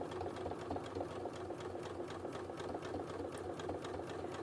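A sewing machine runs steadily for several seconds, its rapid needle strokes forming an even mechanical rhythm as it stitches an appliqué outline in black thread around a chimney and roof shape.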